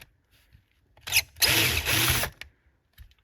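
A Phillips screw holding the carburetor seat is backed out of a Yamaha Grizzly 450 carburetor: a short, close whirring burst of about a second with clicks at each end, surrounded by quiet and no talking.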